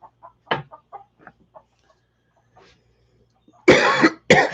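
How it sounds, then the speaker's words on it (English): A chicken on a porch gives a few loud, close, harsh clucks and squawks in two bursts near the end, after a quieter stretch of scattered small sounds. "There's a chicken up here that's tried to lay eggs everywhere on this porch this morning"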